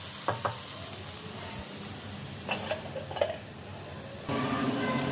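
Onions cook in a pan with salt, turmeric and ginger, sizzling gently while a utensil stirs and taps against the pan a few times, then the frying hiss grows louder near the end.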